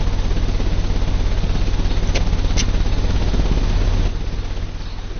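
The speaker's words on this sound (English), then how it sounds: "The engine has started." An engine runs in the video game Sherlock Holmes Crimes & Punishments, giving a steady, droning mechanical hum with a couple of brief clicks partway through and a slight drop in level near the end.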